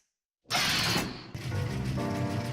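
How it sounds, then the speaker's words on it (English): Washing machine in a Fixies cartoon starting up after silence, a sudden loud mechanical whir with ratcheting, gear-like clatter that shifts into a steady rhythmic churning, close and alone with no talking. "The washing machine."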